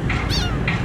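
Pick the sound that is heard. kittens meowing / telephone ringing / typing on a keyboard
kittens meowing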